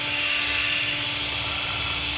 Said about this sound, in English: Put this in my drill bit, put it on high speed.